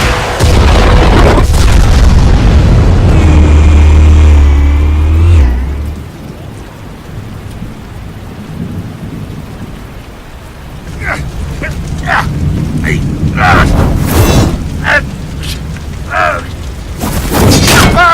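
A deep, booming explosion in Batman: The Telltale Series erupts loud and close, its low rumble rolling for several seconds, then gives way to scattered crashes and debris hits over a dull background.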